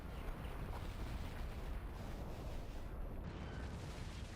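A video game howitzer shell striking and blowing up a core, heard as a dense, continuous rumbling blast that stays loud and steady throughout, with no voices over it.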